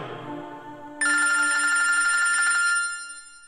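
A telephone bell rings loudly and continuously for nearly two seconds, cutting in abruptly over a fading tonal background and then stopping, with no talk during the ring.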